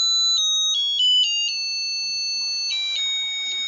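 A Star Trek wristwatch plays a short electronic melody of clean, bright beeping tones, stepping through several pitches over a few seconds, close and clear with no voices.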